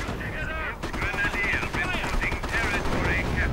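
Rapid artillery barrage and gunfire from a Company of Heroes battle rattle on continuously and loudly, dense bursts overlapping, with a commentator's voice talking above them throughout.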